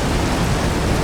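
In a video game, a thunderstorm fills the moment with a dense, loud, steady roar of rain and rumbling, unbroken throughout the brief stretch with no voices over it.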